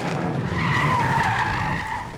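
Tires skidding during a police car chase in Northeast Ohio at night, a loud sustained screech from start to finish with no speech.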